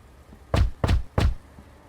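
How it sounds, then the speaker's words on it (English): Three loud, heavy knocks on a door in The Wolf Among Us, evenly spaced in quick succession, with quiet before and after. "Oh, don't do cop knock, dude."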